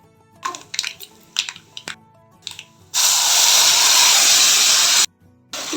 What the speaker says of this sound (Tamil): வானலில் 2 டேபிள் ஸ்பூன் ஆயில் விட்டு கடுகு, உளுத்தம்பருப்பு, கடலைப்பருப்பு, வரமிளகாய் எல்லாம் போட்டு தாளி